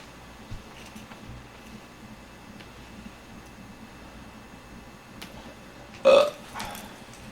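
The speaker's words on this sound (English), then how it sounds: "So I figure it's better to get all my belches out of my system first" A single loud belch from a man on a livestream, erupting abruptly near the end after a stretch of quiet room noise.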